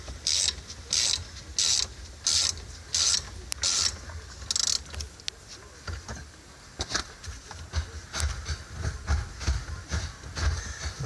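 Rhythmic ratcheting clicks from a wrench tightening a bolt while a Buddy Club shifter is installed in a Honda Element, a steady run of close metallic ticks that then gives way to irregular clanks and shuffling.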